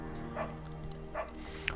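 A beagle named Bucket in the video game Firewatch gives two soft, short yips spaced about a second apart over a quiet background hum, followed by a faint click.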